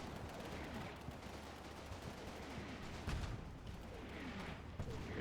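Machine gun fire rattles through a video game battle in dense, overlapping bursts with a heavier thump midway, somewhat distant under a constant din of combat noise.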